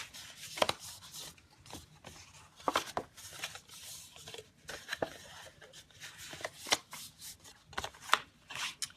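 Cardstock being folded and creased by hand, a run of crisp papery swipes and rustles repeating at irregular intervals, close and fairly quiet, with no voices.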